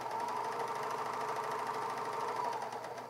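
A Bernina 700D serger runs steadily through fabric, giving a close, even mechanical whir with a rapid regular pulse and no pauses; no one speaks.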